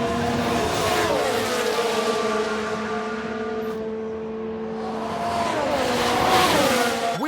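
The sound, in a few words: F1 race cars crashing on track, from video game F1 Manager 22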